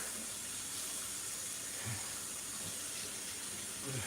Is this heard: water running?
yes